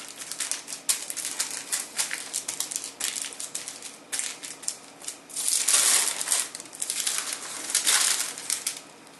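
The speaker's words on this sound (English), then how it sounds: "So now that all of my plantains are smashed flat" Fried plantain pieces are pressed flat for Puerto Rican jibaritos, giving a run of irregular crunchy taps and pats that swell into louder, denser crushing bursts near the end.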